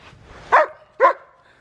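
A dog gives two sharp, close barks about half a second apart on command, each short and loud, followed by quiet.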